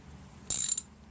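A hand ratchet tightens the mounting bolts on a 5 hp Tecumseh engine being installed on an MTD Yardman single-stage snowblower, giving one short, close burst of clicking that stops with a brief final click.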